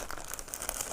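Crinkly plastic bag being pressed and smoothed around packed goat feed inside a feed press, a steady run of close, dense rustling and crackling with no voices.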